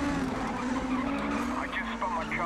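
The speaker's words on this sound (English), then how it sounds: "I just spun my car right out" A race car in the GRID racing game skids and spins out, with a loud, sustained tire squeal layered over steady engine roar throughout.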